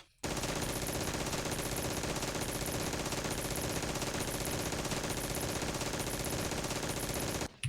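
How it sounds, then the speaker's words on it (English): Continuous rapid turret gunfire in Red Faction on PC pounds without a break for about seven seconds, loud, dense and steady, a fast mechanical stream of shots with no talking over it. "Pretend the barrels are guards and take them out with this turret."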